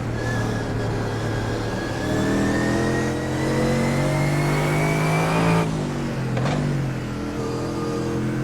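Onboard engine of a race car lapping the Nürburgring in the middle of the pack, loud and continuous, with pitch rising steadily through the gears and dropping sharply at shifts near the end.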